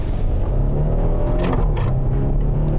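A 2023 Hyundai Palisade's 3.8-liter V6 rumbles loud and close, rising briefly in a short rev before settling back to a steady, heavy drone.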